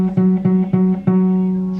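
A guitar note fretted with the middle finger at the 9th fret of the 2nd string, plucked four times in a steady, even rhythm, each pick ringing and sustaining into the next, close and clear with no talking.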